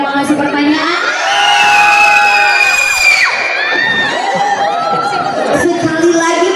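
An audience of children shouts and cheers together at a talk event, high excited voices rising into a sustained roar and then breaking into scattered whoops and chatter.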